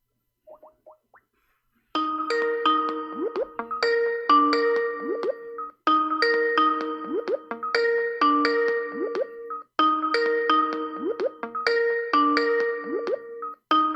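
A Skype incoming-call ringtone loops several times after a brief tone, each cycle a bright bubbly melody with upward sliding blips, loud and clear with short gaps between repeats.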